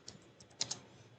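A few faint, scattered key taps on a computer keyboard as a search topic is typed into Google, soft clicks over a quiet room hum.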